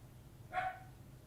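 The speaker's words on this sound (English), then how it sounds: "and the dog is barking" A single short dog bark, faint and somewhat distant, standing alone over a low background hum.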